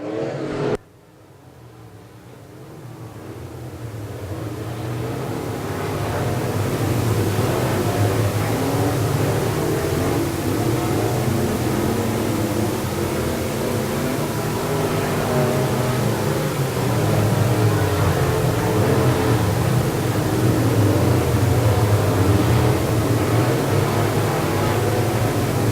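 Sport Mod race cars roar around the Quincy Raceways oval, a dense continuous engine drone that swells after a brief quiet start and stays loud, with several cars revving together throughout.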